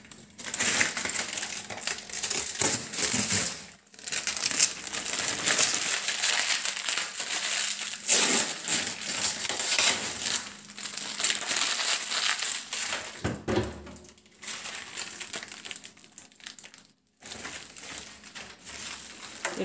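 Thin plastic sheeting crinkles and crackles almost continuously while being fitted and taped in a kitchen, close and fairly loud, with a few brief pauses and no talk.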